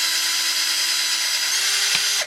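A power drill bores a hole through a pipe for a Halloween spring pop-up prop, giving a steady, close, high whine that runs without a break and then cuts off near the end, with no talk.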